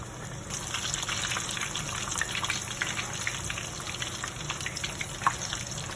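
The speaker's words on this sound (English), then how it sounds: "now our pan is heated up and we're gonna put those fillets in and make sure that they are brown on each side" Fish fillets sizzling in a heated pan, a steady loud crackling fry with scattered pops and spits throughout, no voices.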